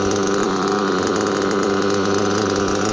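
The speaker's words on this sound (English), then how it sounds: "That high torque pipe along a modified low end high torque nitro engine." A modified low-end, high-torque nitro engine fitted with a high-torque pipe runs loud and close, holding a steady, buzzing, rasping drone with a dense, even pitch for the whole stretch and no voices.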